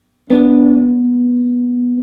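A single guitar note, fretted with the ring finger at the ninth fret of the fourth string, is plucked after a brief silence and rings out clean and steady, slowly fading.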